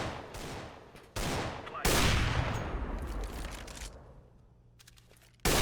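Gunfire in the shooter game CS:GO: sharp, loud shots and rapid bursts, each followed by a decaying tail, with gaps of quiet between them and a final burst at the end.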